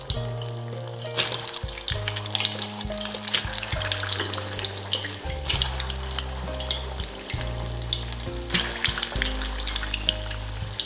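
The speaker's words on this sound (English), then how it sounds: "Seed oil. When it's hot, we can add our cheese ball." Cheese balls made from Grana pastry fry in hot seed oil with a steady, crackling sizzle full of fine pops, close and continuous, with some low tones running underneath.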